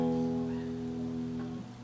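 A single low E string rings out on an acoustic guitar, one sustained plucked note that slowly decays, close and clear with no talking.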